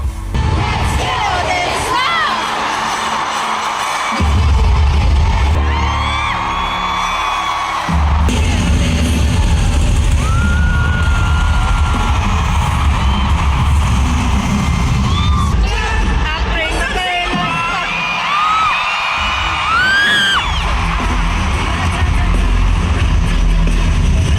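A stadium crowd of 55,000 at a concert in Singapore's National Stadium roars and cheers loudly and continuously, with thumping bangs and shrill whoops rising over the dense wall of voices.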